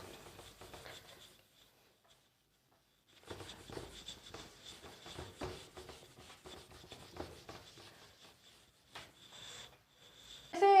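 Marker or chalk writing on a classroom board during an economics lesson: soft, intermittent scratchy strokes come in short bursts, broken by a brief quiet pause, with a louder thump at the end.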